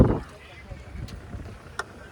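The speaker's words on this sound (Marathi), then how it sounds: "बघा कशी पळाली बोट." A motorboat speeds over the sea off Malvan beach, giving a steady low engine rumble mixed with wind buffeting, fairly faint and continuous.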